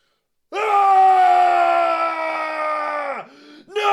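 A single loud, sustained scream rises sharply, holds steady for nearly three seconds, dips briefly and then flares again, close up with no talk around it.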